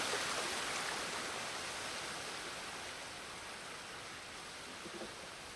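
Steady broadband rushing of a massive waterfall pouring into a stream in the Ghost of Tsushima game world, a constant even wash of falling water that fades slightly toward the end, with no voices.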